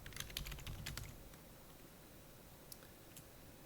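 Rapid clicking keystrokes on a computer keyboard while code is typed, a quick burst of several taps up front, then a couple of sparse isolated clicks later, close and clear with no talking.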